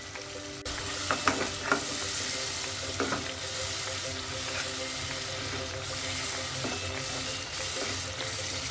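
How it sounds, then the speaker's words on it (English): Masala with yogurt fries and is stirred in a pot for aloo biryani, giving a steady close sizzle with repeated scraping, clinking stirs of a spoon against the pot throughout. "Add yogurt and cook the masala until the oil separates."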